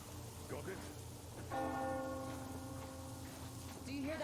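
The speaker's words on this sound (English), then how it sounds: "Do you hear that bell?" A bell tolls in the Metro Exodus video game, a single sustained ringing strike with long resonant overtones over a low ambient rumble, fairly distant and steady.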